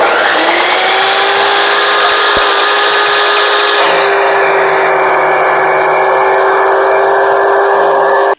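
A power tool cuts through a 10-inch metal rod in a welding shop, giving a loud, steady high-pitched grinding whine that runs unbroken for the whole stretch and dips slightly in pitch partway through.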